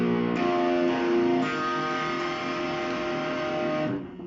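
An electric guitar in drop B flat tuning is strummed once, and the low, full chord rings out for about four seconds before being cut short.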